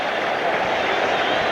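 A baseball crowd at a 1984 Mets home game against the Houston Astros sends up a steady, dense roar of cheering as the Mets close in on the final strike, with no break across the short stretch.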